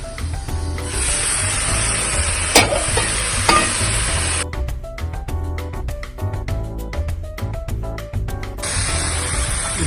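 Seasoned noodles fry in a pot with a loud, close, steady sizzle and hiss, stirred with a couple of sharp scrapes; midway the sizzle drops to a rapid tapping clatter before surging back.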